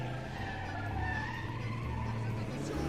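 Engine roar with skidding, squealing tyres from a Panther De Ville car in a played video game, loud and continuous for three seconds, the motor note rising and falling as it slides.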